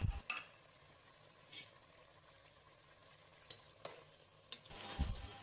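A spoon mixes spices in a pan with faint scraping and a few soft clinks scattered over a quiet background, heavier scraping near the end.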